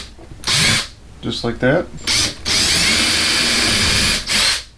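Power drill boring holes through a drill guide for cabinet pulls and drawer handles, a loud whining burst, a short stop, then a longer steady run and a final brief burst, with someone speaking between the bursts.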